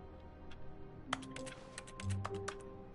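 Keyboard typing in The Stanley Parable: a quick burst of crisp, close key clicks in a short, uneven rhythm over a low, quiet office hum.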